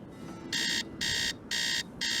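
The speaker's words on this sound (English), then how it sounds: "And then let's set our alarm for" Alarm clock in a Nancy Drew video game, set for 3 a.m., buzzing in four loud, evenly spaced electronic bursts about half a second apart over a soft background hum.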